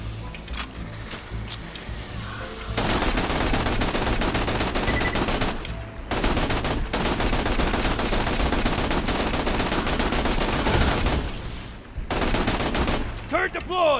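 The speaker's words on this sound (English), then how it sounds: "Turret deployed! Autogun wrecking face!" An autogun turret in Borderlands 2 fires long, dense bursts of rapid automatic gunfire. The bursts are loud and come in two extended stretches separated by short gaps, with game clutter mixed in.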